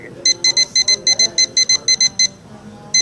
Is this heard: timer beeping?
yes